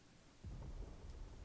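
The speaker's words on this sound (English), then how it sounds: "Sounds like thunder." Thunder in the video game Final Fantasy XVI rumbles low and quietly, a soft rolling boom that swells and lingers briefly, distant and faint, with no speech over it.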